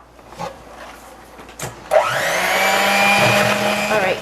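An electric mixer kicks on after a few clunks and whirs loudly and steadily, whipping cake batter made with eggs and vanilla for a pumpkin apple coffee cake.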